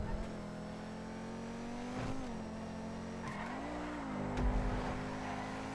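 A car in GTA drives and corners, its steady engine drone rising and dipping in pitch with light tire squeal through the turns, continuous and fairly close.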